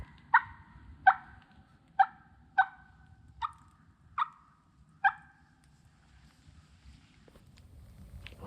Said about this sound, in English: We just heard a turkey gobble probably about 300 yards from us